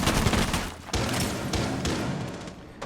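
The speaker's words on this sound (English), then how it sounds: "Glossy takes a few shots but doesn't hit them." A burst of gunfire in a Rainbow Six Siege match, dense rapid shots with thumping impacts, loud and continuous across the whole stretch with no talk.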